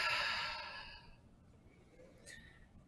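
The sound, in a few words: exhaling breath out through open mouth during yoga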